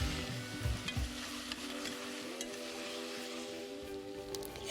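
Tomato sauce stirred into fideo pasta and onion frying in a pan: steady sizzle with a low hum and a few scraping stirs near the start, a sharper clatter at the very end.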